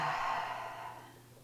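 One long, deep exhaled breath during seated movement practice, a soft airy sigh that slowly fades, close to the mic with no talk.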